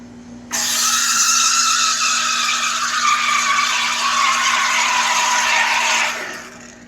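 An espresso machine's steam wand heats milk without drawing in air: a loud, steady, close hiss that starts suddenly, holds for several seconds with little change, then fades as it is shut off.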